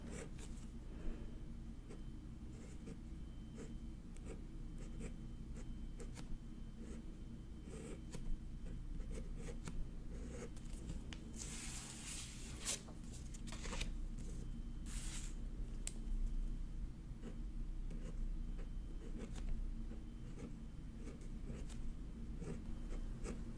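Pen scratching across paper while kanji characters are written at a desk, soft continuous strokes with small taps and lifts, close and quiet over a steady low hum.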